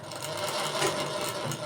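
A sewing machine starts stitching fabric, a steady close whirring hum with a fast mechanical rhythm running throughout, no voices.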